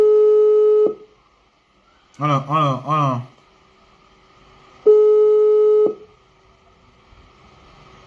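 A telephone busy signal sounds as two steady one-second tones with a pause between them, while a person briefly speaks in between.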